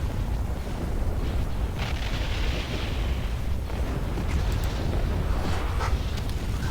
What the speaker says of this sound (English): That's a lot of bombs.